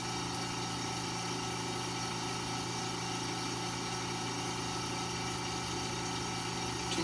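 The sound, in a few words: lab spinner running at programmed spin speed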